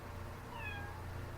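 A cat gives one short, faint meow with a rising-falling tone over a low, steady background hum, and no one speaks.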